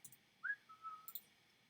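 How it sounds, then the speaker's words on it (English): A single person whistles a short, soft phrase: a quick rising note, then a sustained tone, heard alone in a quiet room. "I shouldn't whistle"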